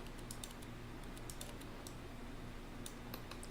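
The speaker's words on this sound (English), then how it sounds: "So we're just going to keep on clicking and painting in the meantime." A computer mouse clicks repeatedly while painting with Photoshop's clone stamp tool, small crisp clicks arriving in irregular bursts and clusters, quiet and close over a low hum, with no talking.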